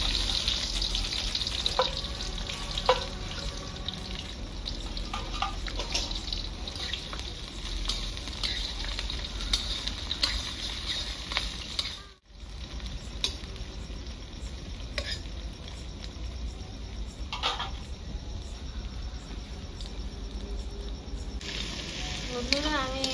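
Chopped onion sizzling in hot oil with cloves and small cardamom pods in a village kitchen, a steady close crackle with occasional stirring scrapes throughout, briefly cutting out midway.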